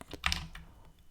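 Quick keystrokes on a computer keyboard while code is being entered, a short burst of several close, crisp taps that thin out into lighter clicks.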